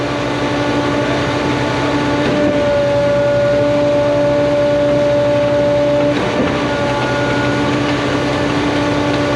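A Putzmeister 24Z concrete pump runs steadily in a back lane, its engine droning with a sustained tonal hum and constant loud mechanical rumble throughout, with a brief surge in the middle.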